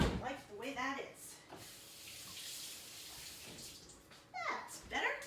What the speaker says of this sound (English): I'm going to rinse this onion off.